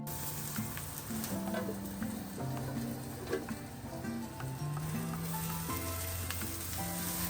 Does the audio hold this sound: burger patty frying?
yes